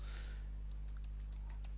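Computer keyboard typing: a short run of about eight light, evenly spaced key taps over a steady low electrical hum.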